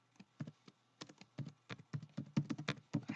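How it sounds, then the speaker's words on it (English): Keys clack on a computer keyboard as a project name is typed, a close run of soft irregular taps that speeds up and gets a little louder toward the end. "I could type in a new name, project name."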